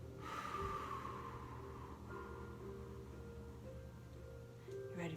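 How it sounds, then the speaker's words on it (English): A person breathes slowly in through the nose and out through the mouth during a mindfulness breathing exercise, the airy breaths soft and close over a steady, faint tonal background. "Inhale through your nose. And exhale through your mouth."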